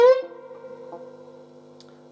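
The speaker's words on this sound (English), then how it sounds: "very quick bend from this B flat" A single electric guitar note is picked and quickly bent up from B flat, then sustains and slowly fades, played alone and fairly quietly.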